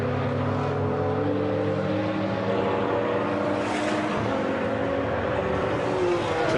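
A Nissan GT4 race car drives at Monza during an endurance race, with a continuous loud engine roar and shifting revs over steady track ambience and no commentary.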